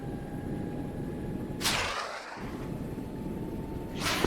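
A missile launches from an MH-60 helicopter in a military video game: a sudden whooshing roar rises over the steady rotor drone and fades, and a second burst begins at the very end.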